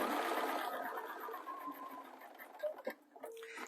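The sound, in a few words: sewing machine running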